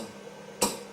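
A single sharp tick from a Pulse Energy Replenisher (PER) machine used in animal treatment, a crisp click standing out against a quiet room hum.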